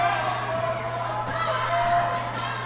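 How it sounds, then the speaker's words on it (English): A crowd roars and cheers at a girls' high school basketball game, a broad steady din with a low hum that stays at one level throughout, while a commentator's voice runs over it. "Crowd is roaring right now, almost literally"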